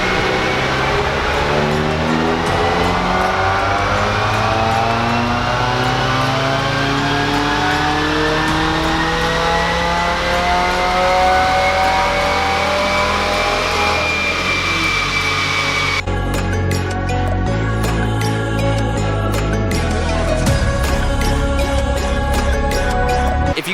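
A Subaru WRX engine screams at full throttle on a dyno, its pitch climbing steadily through the revs in one long, loud pull before shifting into a higher gear and continuing to roar, with no talking.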